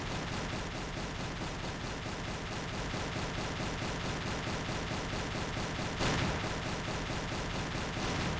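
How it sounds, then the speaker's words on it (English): An anti-air flak gun in Silent Hunter III fires in a fast, steady, relentless rhythm, dense repeated booms packed closely together for several seconds with one slightly harder burst partway through. "How do I range it so the flak explodes properly?"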